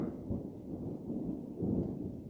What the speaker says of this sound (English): we got a thunderstorm coming in